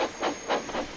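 Loud steam hissing from a cartoon steam locomotive, several broad whooshing bursts in quick succession, close and alone with no talking.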